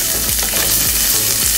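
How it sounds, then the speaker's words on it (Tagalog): Onion sautéing in hot cooking oil for chicken adobo, a loud steady sizzle with faint stirring scrapes, close and continuous with no voices. "Lagyan na natin yung ating onion."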